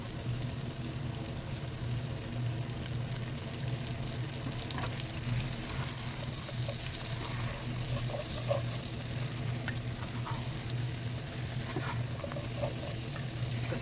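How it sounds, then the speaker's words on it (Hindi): Tomatoes sizzle in a clay pot while chicken korma cooks, giving a steady, even crackle and hiss of frying at close range, with no talk. "अभी हम इसमें टमाटर ऐड करेंगे।"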